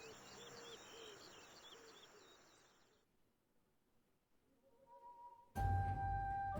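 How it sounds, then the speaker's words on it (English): Game ambience from Age of Empires II of birds in a rainforest canopy, a dense chorus of chirps and coos that fades out, then a rising tone and a sudden loud burst at the end. "Birds in the rainforest canopy took to the sky, eager to be away from the violence that was to come."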